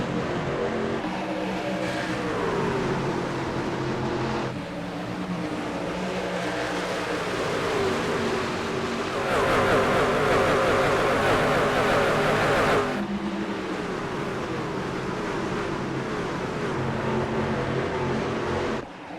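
A pack of AREA Truck Series race trucks roars off at the start of a 150-lap playoff race at Iowa, engines droning and surging together continuously, loud and sustained with shifting pitch as the field accelerates.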